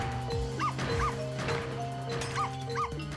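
Video game dog in Ghost Trick barking in sharp, repeated yips over a steady electronic game soundtrack, with bangs and crashes mixed in.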